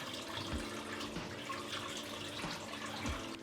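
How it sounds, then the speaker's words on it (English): Tap water runs steadily into a sink close by as someone wets their face, with small splashes and drips breaking the flow, no voices. "Now I'm going to wet my face and use the wash."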